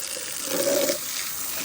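A tap is turned on and water runs from it for a bath, a brief, moderately loud gush that rises and then settles back into a quieter background.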